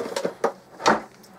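Cardboard and plastic packaging from a Thermaltake eSports Knucker gaming keyboard is shifted off a table, giving a few short rustling, scraping bursts close by with quiet gaps between them.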